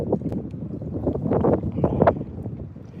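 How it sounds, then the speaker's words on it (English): Wind gusts buffet the microphone outdoors by the water while bass fishing, a rough, fluctuating rumble with a few faint knocks and a brief tone. "the wind is kind of blowing"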